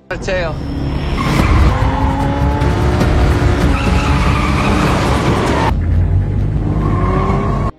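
A loud film car chase: engines roar and rev while tires squeal and skid at length, then the roar cuts off abruptly, leaving a lower engine hum at the end.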